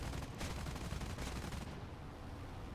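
In War Thunder, a La-5 fighter fires bursts of 20mm cannon, a rapid, dense rattle of shots over the steady roar of the aircraft engine, then stops near the end.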